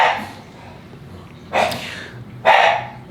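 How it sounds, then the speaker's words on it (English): Dogs bark indoors, close and loud: a short yip at the start, then two sharp barks about a second apart over faint room noise. "you got your dogs who now want to bark"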